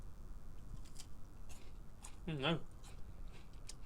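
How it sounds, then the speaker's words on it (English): Loud crunchy chewing of cheesy twisties corn snack, close to the mic, with brief bites and crackles among quiet talk. "Sorry, listeners, I am chewing quite loudly."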